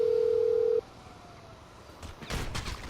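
A phone dials out in GTA 5: a steady tone holds for under a second, then stops, followed after a pause by several muffled bursts like distant gunfire.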